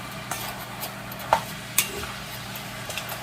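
Ground beef being stirred in a pan for lasagna with white sauce gives a soft steady sizzle, with a few sharp scrapes and clinks of the utensil against the pan standing out near the middle.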